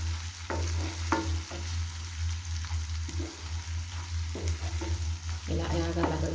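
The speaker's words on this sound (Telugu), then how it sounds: "వేగినాయి కదా రొయ్యలు" Prawns fry in hot oil for a prawn and gongura curry, giving a steady close sizzle with several clinks and scrapes of a spoon stirring the pan, and no talk.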